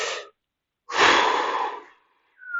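An anime character takes deep, concentrated breaths, a short close inhale followed by a long, loud rushing breath, then a faint tone trails off.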